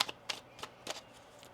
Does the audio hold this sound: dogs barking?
no